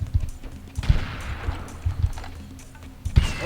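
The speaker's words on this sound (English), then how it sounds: "I love shooting those things up close and personal for some reason" Gunfire from shooting enemies in the video game Serious Sam Second Encounter: a string of punchy, booming shots at an uneven pace, moderately loud over a low rumbling game backdrop.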